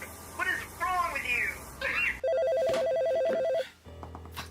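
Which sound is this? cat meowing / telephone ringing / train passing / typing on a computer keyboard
telephone ringing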